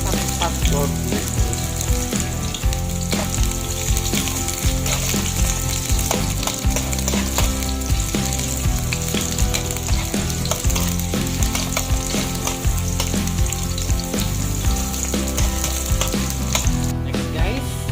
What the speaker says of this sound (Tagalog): olive oil ang ating gamit. So ilagay na natin yung onion